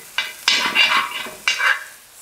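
Ginger and garlic fry in a hot pan with a short sizzle, while a spatula stirs and scrapes in three or four quick bursts, close and fairly loud with no talking.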